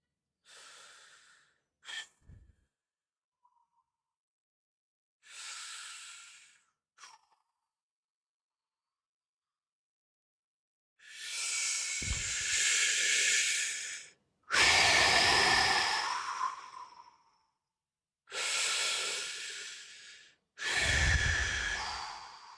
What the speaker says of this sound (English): The deep breathing really helps, guys.